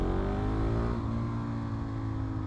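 A KTM motorcycle engine, either the SMC-R or the Svartpilen 701, revs hard while being ridden, a loud steady drone whose pitch climbs and then settles as the bike pulls, with no voices.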